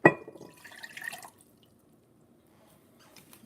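Tap water is poured into a three-quarter measuring cup while cooking: a brief splashy pour of about a second, then near silence with a faint drip.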